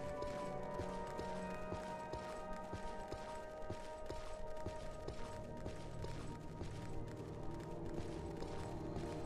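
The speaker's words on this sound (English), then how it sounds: "Just hearing those footsteps are like creeping me out" Footsteps in a modded Morrowind video game, heard as a steady, quick rhythm of soft thuds that continue without a break over a constant ambient hum, at a moderate distance and fairly quiet.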